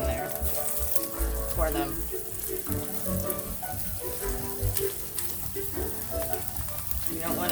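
Eggs fry in a pan in a work kitchen, sizzling steadily up close, with water running and a person talking briefly over the sizzle.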